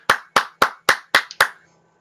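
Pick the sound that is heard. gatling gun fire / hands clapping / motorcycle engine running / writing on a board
hands clapping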